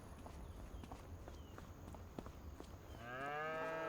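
Cattle mooing in the farming game Farming Simulator 25, a long low moo swelling up near the end over a busy bed of footsteps and ambient farm noise.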